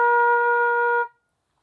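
A flute sounds a single sustained B-flat, steady and clear for about a second, then stops abruptly into silence; the note is played alone with no talking.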